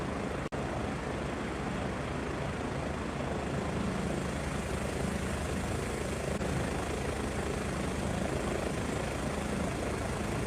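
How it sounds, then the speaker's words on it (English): Helicopter rotor and engine in the FS24 flight simulator game, a steady dense whir with continuous broadband drone throughout, no talking. "So obviously that's the rotor in action"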